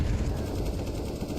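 Rapid AK rifle fire in Counter-Strike, a dense continuous burst of shots at close range, loud and alone without voices.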